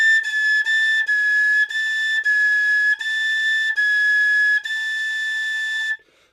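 A tin whistle sounds a half-holed G sharp, one clear sustained note repeated about eight times with short breaks between, bright and loud, ending after about six seconds.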